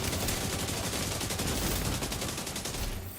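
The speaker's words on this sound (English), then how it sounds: "Good covering fire." Heavy covering gunfire in The Division 2 firefight: a loud, close, unbroken stream of rapid automatic shots rattling for a few seconds before easing off slightly at the end, with no talk.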